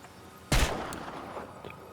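A single sharp video-game gunshot cracks out, loud and abrupt, with a short ringing tail fading into quieter game ambience and a couple of faint clicks afterward.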